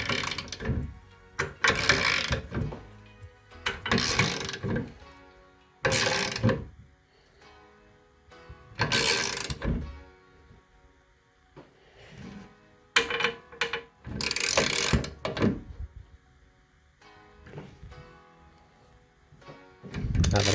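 Bolts being tightened while assembling the base of an Adidas home gym: close, loud bursts of ratcheting, clicking metal work come in uneven runs, separated by quieter pauses with faint handling noise.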